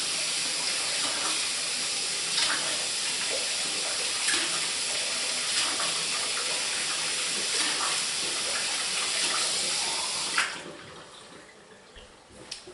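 Liquid coconut oil soap pouring in a continuous steady stream for about ten seconds, a close, even watery rush that cuts off abruptly and leaves only faint handling noise.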